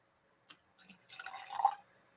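Knob Creek bourbon poured from a corked bottle into a glass for blending, a short quiet splashing trickle that swells and then stops, with a faint tap just before it.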